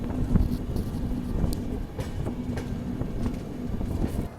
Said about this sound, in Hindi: अभी हमारी ट्रेन निकल चुकी है दरभंगा की तरफ